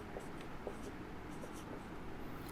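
A teacher writing on a board in a physics class, with faint, light scratchy strokes in short bursts over a quiet room.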